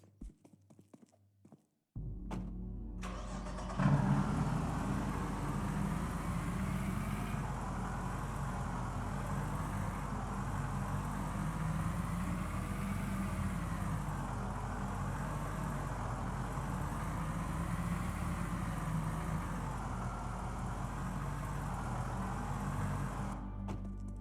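A Humvee engine in a video game starts after a brief quiet moment, then settles into a steady, moderately quiet idle rumble with a slow, gently wavering throb.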